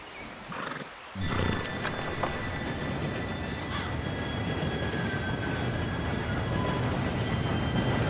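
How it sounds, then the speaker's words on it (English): In the western video game Red Dead Redemption 2, a train approaches as a rising, steady rumble that fills the scene, with horses shifting and snorting nearby. "Train should be here any minute now."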